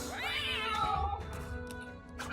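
A cat in the video game Guild of Dungeoneering lets out a drawn-out, wailing meow with a rising and falling pitch, followed by softer game sounds and a few light clicks.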